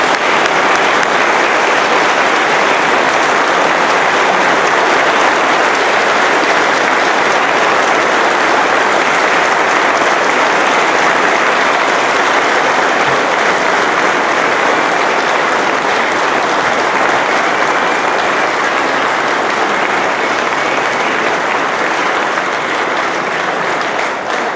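An audience applauds the new Tulane football coach Curtis Johnson, loud sustained clapping from a large crowd filling the room without a break.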